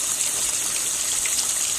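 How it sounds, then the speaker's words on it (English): Water gushes steadily from a pipe in a backyard garden near grapevines, a loud, continuous hissing rush with no breaks. "water comes down"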